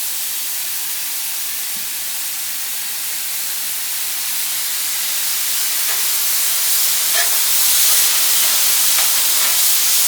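Potatoes sizzling on a hot Blackstone flat-top griddle, a loud, steady frying hiss that swells slightly toward the end, with faint scattered crackles.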